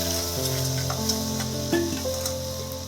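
Chicken curry with potatoes sizzles in a hot pan as water goes in, giving a soft, steady frying hiss with a few small pops and clinks over a quiet tonal background.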